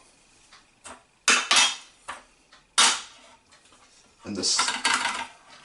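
A metal GI canteen cup stove is set down inside its lid, giving several sharp, close metallic clanks and rattles separated by short quiet gaps, with a brief spoken word.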